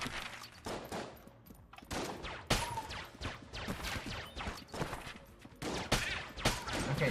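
Rapid laser pistol fire in the game Enter the Gungeon, a dense run of sharp repeated shots layered with game effects and impacts, loud and continuous throughout.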